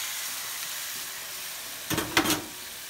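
Chicken pieces dropped into a hot oiled pan for a chicken and shrimp Alfredo pasta, giving a sudden close sizzle and crackle that swells in two quick bursts over a steady background hiss.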